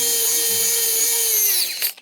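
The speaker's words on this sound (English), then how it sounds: "We'll do some electric screwing for this one." A handheld electric screwdriver whirs steadily while driving a small screw into a toy robot upgrade kit, then winds down and stops with a final click, loud and close with no talk.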